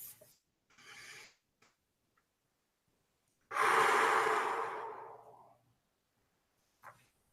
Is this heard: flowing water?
no